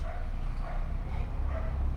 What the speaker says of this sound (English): see that dog barking?